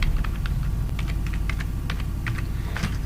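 Rapid irregular clicking of keys on a computer keyboard as someone types into a database query field, close and steady over a low background hum, no talking.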